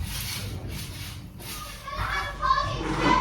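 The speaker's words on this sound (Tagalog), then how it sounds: "Ang ingay ng mga bata na naglalaro sa trampoline" Neighbouring children play noisily on a trampoline, their distant shouts and chatter forming a continuous lively background hubbub that grows a little louder toward the end.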